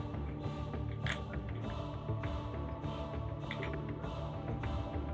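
A door in a video game creaks open with a run of rhythmic clicking, groaning pulses over a dense, steady mechanical background, with no talking.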